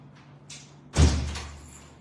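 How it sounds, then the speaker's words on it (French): A door bangs shut with a loud, close thud about a second in, its boom trailing off over the next second after a faint earlier rustle. "Ah ben, la porte."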